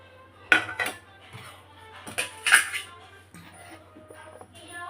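Freshly washed metal temple utensils clink and clatter as they are picked up and carried, in a few sharp bursts of metallic knocks with quieter handling between.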